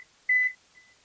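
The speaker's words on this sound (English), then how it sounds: "So I use the kitchen timer." A kitchen timer gives one short, clear electronic beep and then a fainter trailing tone in a quiet kitchen while muffins bake.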